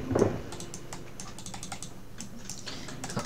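Quick bursts of typing on a computer keyboard during a League of Legends game, a damaged keyboard clattering in irregular clusters of clicks, fairly quiet and close, with one sharper tap at the start.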